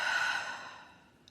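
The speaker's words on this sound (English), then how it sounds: "out through the mouth." A single long, slow breath pushed out through the mouth during a calm breathing exercise, soft and close, fading gradually to quiet.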